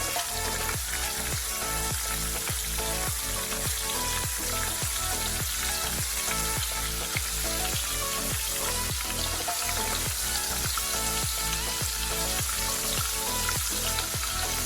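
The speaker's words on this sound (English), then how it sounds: "and start frying." Breaded shrimp fry in hot oil, giving a loud, dense, continuous sizzle with regular crackling pops throughout, close and steady with no voices.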